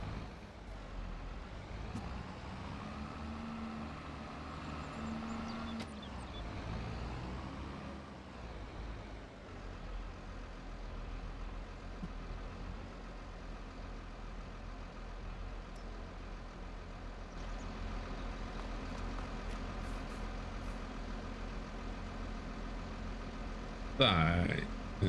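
A tractor engine runs at a steady, low idle for a long stretch on a forest farm, a continuous rumble with faint background noise and no talk.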